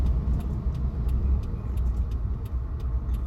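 A car on a road near Sudbury, heard from inside a moving vehicle as a steady low rumble of engine and tyre noise, with faint repeated high clicks over the top.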